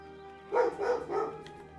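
Puppies at a house barking at someone out front, three quick muffled barks heard from a distance, indoors and fairly faint.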